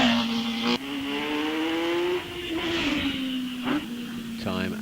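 A race car at the Wiscombe Park hillclimb brakes and accelerates through the S bends, its engine droning close and loud with rising and falling revs and sharp gear changes, under a commentator's voice.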